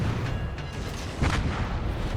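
Naval gunfire from warships in the World of Warships game: a steady low rumble of distant salvos with a heavier boom near the middle, continuous and moderately loud with no talking.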